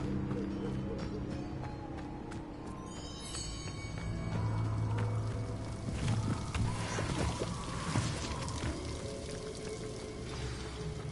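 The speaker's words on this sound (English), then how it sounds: "The waterfall." Steady rushing waterfall in the video game Hogwarts Legacy, a continuous broadband wash of falling water with faint background music and game effects layered over it.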